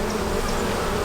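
Worker bees buzzing around a dripping honeycomb, a steady close insect drone with no pauses and no voices.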